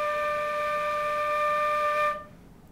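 A flute holds a single steady D note, clear and close for about two seconds before it stops abruptly, leaving near silence.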